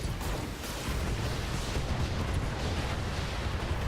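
Mech weapons fire in the BattleTech video game as one loud, dense, continuous roar of booming blasts with no separate shots standing out.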